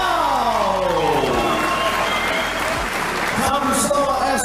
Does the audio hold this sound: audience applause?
yes